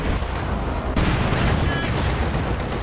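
Dense machine gun and small-arms fire in a Company of Heroes 2 battle, a continuous loud rattle of rapid bursts that swells sharply about a second in and keeps going without pause.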